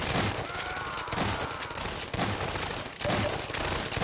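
Rapid, dense gunfire in Half-Life 2: Episode Two, near and loud, with sharp overlapping bursts coming in quick, irregular clusters throughout, no talking.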